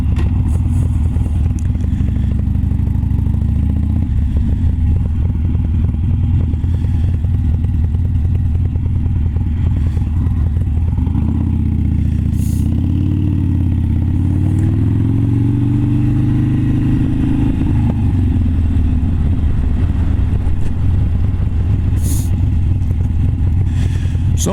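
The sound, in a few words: motorcycle riding on the road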